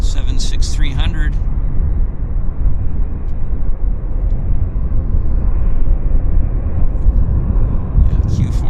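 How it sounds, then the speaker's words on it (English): A Bombardier Q400 lands at Vancouver Airport, its deep, loud roar and rumble filling the whole stretch without a break, while brief voices come through near the start and again at the end. "Q400 landing in front of us"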